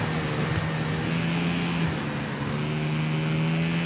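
A racing motorbike in the TT Isle of Man video game, its engine droning steadily at high revs with a continuous tonal whine that dips briefly and climbs again.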